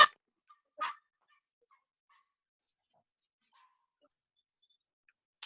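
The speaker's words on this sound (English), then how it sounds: "I got rudely interrupted by my sausage dogs" Sausage dogs give a few faint, sharp barks spaced apart, a distant yip followed by a louder bark and a final one after a long quiet stretch.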